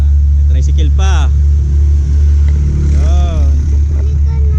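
A motorized tricycle's engine hums past beneath a steady low rumble outdoors, with voices talking over it.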